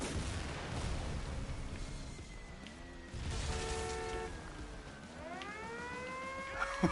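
A rocket in the motorbike game Trials Fusion whines with rising and falling tonal sweeps over a steady rumbling background, and a few sharp clicks come near the end.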